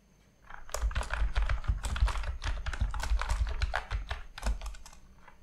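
Steady computer keyboard typing while a Python program is written, dense irregular keystrokes clicking close and clear for about five seconds with no voices.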